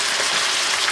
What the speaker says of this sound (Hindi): हाई फ्लेम पे थोड़ा फ्राई कर लें